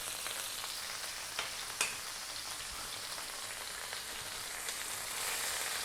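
Onion and garlic fry with pork in a hot pan, a steady dense crackling sizzle throughout with occasional sharper pops, close and fairly loud.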